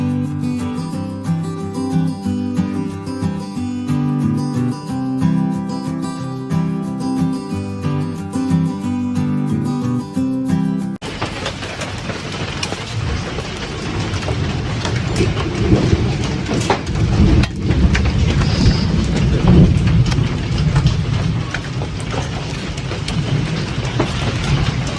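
Steady rain falls through a thunderstorm outdoors, a broad loud wash with low rumbling that follows a stretch of music; the storm noise runs continuously with no talk.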